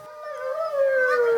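Wolves in a forest at night give a long, rising, sustained howl with clear tonal harmonics, one continuous wail heard fairly close and alone.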